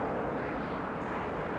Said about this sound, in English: As it gently bobs on subsonic air, take a close look at the world's fastest airplane.